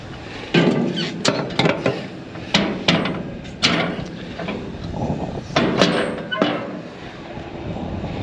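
Lid of a seed cart tank being forced open on a farm seeding rig, a series of sharp metallic bangs and clanks in irregular bursts, close and fairly loud, with brief rattling between hits.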